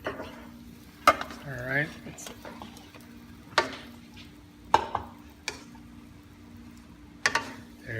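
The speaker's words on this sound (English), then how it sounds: "Gonna give it a stir again, so we can mix the vegetables we cooked." Pansit bihon rice noodles and vegetables get stirred in a frying pan, soft sizzling broken by several sharp utensil knocks against the pan; a voice speaks briefly near the start.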